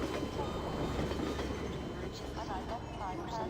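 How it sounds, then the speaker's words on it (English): A train in a video game rumbles steadily past at a moderate distance, a continuous rolling roar with faint voices in the background. "I got hit by the train."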